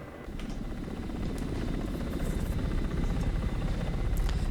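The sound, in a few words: Ka-50 helicopter flying, from video game DCS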